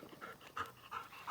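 A dog pants rapidly and close by, a quick rhythmic series of breathy huffs over a little more than a second, faint and alone with no talking.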